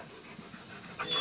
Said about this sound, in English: There's my friend, the mailman's friend, the dog.